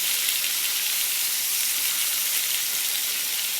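Seasoned steak marinated with adobo, cumin, salt, pepper and crushed garlic browning in a hot frying pan, giving a steady, even sizzle that fills the whole stretch without pause or talk.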